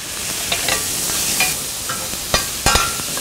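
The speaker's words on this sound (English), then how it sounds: "I'm melting this butter in here because we're gonna make a little bit of roux" Butter sizzling steadily in a hot pan as a roux is started, a constant close frying hiss broken by a few sharp clicks and scrapes of stirring.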